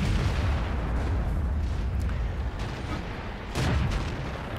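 A T21 American light tank's gun fires in World of Tanks, aimed at a T-150: a loud, sharp blast late in the clip rises out of a constant heavy battlefield rumble, with no talking.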